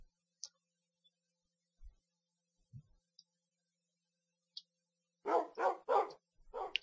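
Dogs bark in the Minecraft video game, with four quick close barks clustered near the end after a quiet stretch holding only a few faint clicks and blips.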